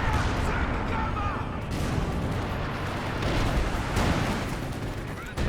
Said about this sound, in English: the mortar's getting some good hits there